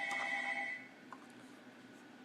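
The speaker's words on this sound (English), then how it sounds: "Enjoyed the sound of ringing phone." A telephone rings with an incoming call: a short burst of bright electronic ringing in the first second, then only quiet room noise.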